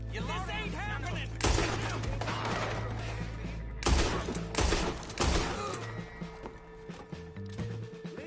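Gunfire in the Western video game Red Dead Redemption: several loud, sharp bursts of shots in separate volleys, close and booming, with a voice heard between them.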